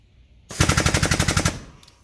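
An air-powered bending tool running on compressed air, a rapid close burst of evenly spaced pneumatic hammering pulses lasting about a second before stopping abruptly, with no talk over it.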